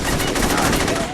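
Dense automatic gunfire from AI gang allies in Saints Row 2 fills the whole moment as a continuous, loud, rapid stream of shots with no pauses and no talk.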